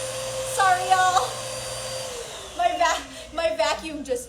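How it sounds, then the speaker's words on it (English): A household vacuum cleaner runs in a room during a home hair-colouring session, giving a steady motor whine that winds down partway through while someone talks over it. "my vacuum just turned on"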